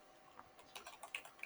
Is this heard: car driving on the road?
no